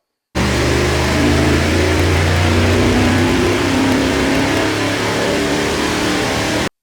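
A Chevy 350 small-block V8 roars at full load during a dyno pull, a loud sustained engine drone that holds steady for several seconds before cutting off abruptly, with no talking.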